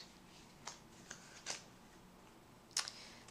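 A Rider-Waite tarot deck is shuffled quietly, giving a few soft riffling bursts spaced apart over a low, steady background hiss.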